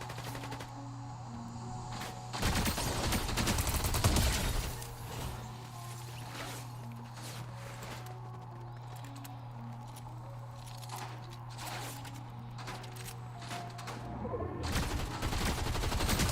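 Bursts of video game gunfire, a cluster of rapid shots early on, then quieter scattered pops and game ambience, faint overall with a low steady hum underneath.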